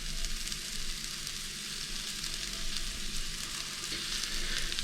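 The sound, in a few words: mushrooms cooking in a hot pan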